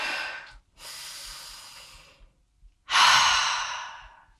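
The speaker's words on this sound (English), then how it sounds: "Take a full breath in and out." A slow, full breath taken during a gentle exercise session: a long airy inhale, a short pause, then a louder, forceful exhale that fades out. Close and soft, with no talking.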